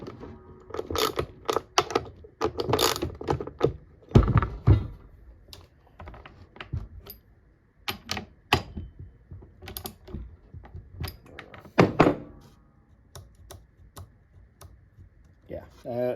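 Chainsaw parts being tightened back up during a repair, a run of irregular metallic clicks, ratcheting and clanks from tools and parts, with some louder knocks, heard up close.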